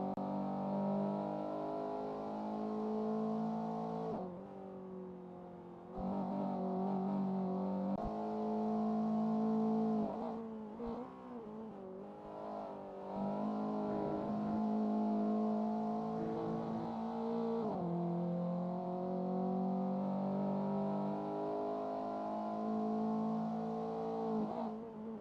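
Group N race cars in a sim racing game roar continuously with revving engines, rising and falling through gear changes and brief lifts, loud and close with no talk.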